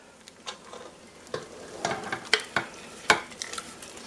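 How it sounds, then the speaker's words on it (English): Sauce goes over drained beans and tomatoes in a slow cooker liner, with scattered scraping taps and sharper knocks of a utensil against the container, close and irregular. "Now I'm going to add my sauce."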